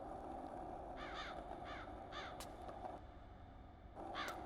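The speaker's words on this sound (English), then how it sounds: "A bunch of crows here." Crows cawing in the video game Bomb Rush Cyberfunk, several short harsh caws in quick clusters over a steady low ambient hum, moderately distant and fairly quiet.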